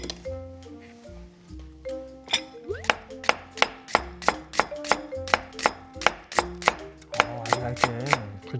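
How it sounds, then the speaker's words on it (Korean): Knife thinly slicing onion on a cutting board in a steady run of sharp, evenly spaced chops, close and clear, over faint background tones. "양파를 얇게 썰어서 지금 담궈 놓겠습니다"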